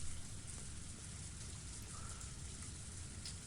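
Torrential rain pours steadily in a Higurashi video game scene, a dense, unbroken hiss at constant loudness throughout with no voices.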